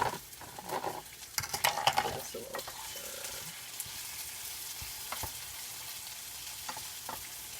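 Vegetables frying in oil in a pan, with a steady quiet sizzle and scattered clinks and scrapes of stirring, busier at first and then settling into a soft, even hiss.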